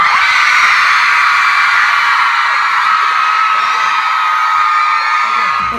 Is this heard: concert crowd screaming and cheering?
yes